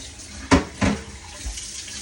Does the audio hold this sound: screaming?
no